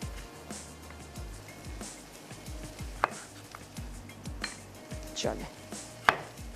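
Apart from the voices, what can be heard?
chopping tomatoes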